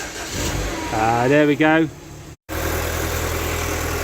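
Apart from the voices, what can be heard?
Mini car engine starting with Topdon jump starter boost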